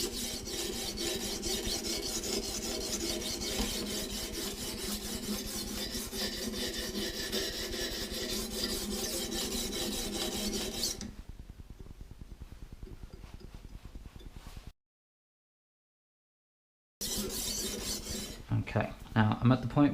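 A long knife scrapes steadily on the rough stone of a Russian knife sharpener, a close, even rasping stroke that runs continuously, then thins and drops out briefly before a few harsher scrapes return.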